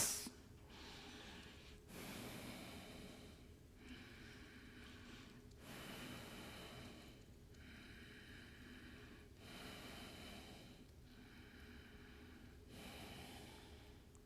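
Slow, deep pranayama breathing during a morning satsang, long drawn breaths in regular cycles of about four seconds, close and fairly quiet with no talking.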